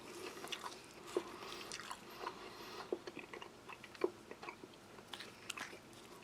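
Close, crisp crunching of French army combat ration muesli of rolled oats, dark chocolate chips and milk powder, irregular bites and chewing with occasional sharper cracks over several seconds, with no talk.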